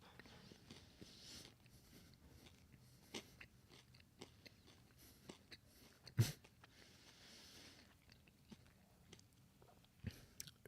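A 4-year-old chewing food noisily makes faint, irregular wet clicks and crunches close by, with one louder bite standing out partway through.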